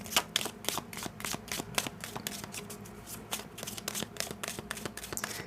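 A Gypsy Lenormand card deck is shuffled by hand, with steady, close riffling and snapping of cards in a rapid rhythm throughout.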